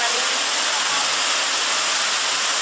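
Steady, loud roar of the Putri Ngelirip waterfall, a dense continuous rush of falling water filling the scene without pause.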